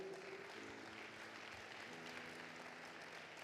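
Church congregation applauding during a worship service, a steady, even patter of many clapping hands heard faintly from a distance, with no pauses across the stretch.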